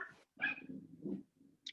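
Two dogs bark and whine at a distance in a home during an online meeting: a sharp yip, a few muffled woofs and a short whimper, faint and intermittent.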